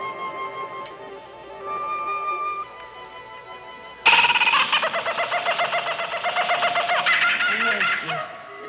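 A bird clucks and squawks in a rapid run of pulsing calls, loud and close after a quieter opening stretch, in a comedic wartime navy setting.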